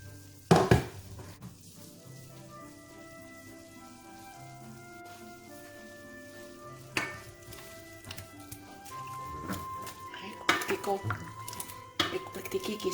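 A utensil stirs barbecue sauce around pork ribs in a pan, with metallic clinks and scrapes against the cookware. Soft background music plays throughout, and the clatter grows louder near the end.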